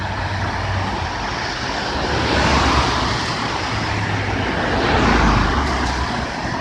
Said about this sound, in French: Le trafic est constant.